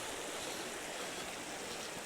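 A river flows near the Cornish coastal path between Porthtowan and Chapel Porth, a steady broadband rush of water that stays even throughout with no voices.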